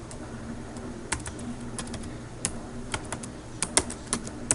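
Someone types a web address on a computer keyboard, giving sparse, irregular key clicks with a few sharper taps over a low background hum.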